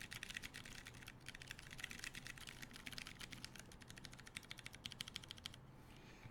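Rapid, steady typing on a keyboard fitted with Ergo Clear and MX Black switches, a close, quiet stream of clicky keystrokes with a brief pause near the end.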